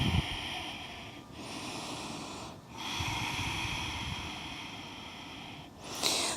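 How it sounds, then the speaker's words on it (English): Deep breathing during a yoga flow, slow and audible close to the mic: long airy inhales and exhales in a steady rhythm, with brief pauses between them and a sharper intake at the end. "One more deep breath here."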